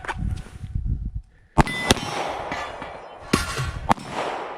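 Gunshots ring out at falling steel targets during a shooting training drill, several sharp cracks in quick pairs with metallic clangs, loud and close, with brief indistinct voices before the first shot.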